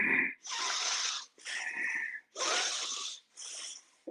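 A voice imitates labored breathing that uses the accessory respiratory muscles, in four forceful, wheezy breath cycles, each about a second long with brief pauses between, close and fairly quiet.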